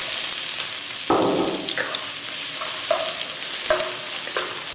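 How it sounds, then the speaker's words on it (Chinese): Minced onion sizzles in oil in a pan, a constant close frying hiss broken by a few scrapes and stirs of a spatula, with no talking. "锅内倒一点油，放入洋葱末炒香"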